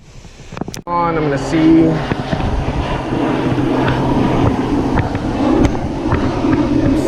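Wind blows steadily across an open-water fishing spot during frog fishing with a KastKing Assassin reel, a broad rushing roar that fills the clip, with someone talking briefly over it.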